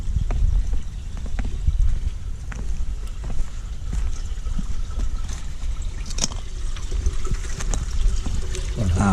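Treated wastewater from a sewage treatment plant pours out in a steady rushing flow, with wind buffeting and a few knocks and clicks nearby; no distinct talking stands out over the water.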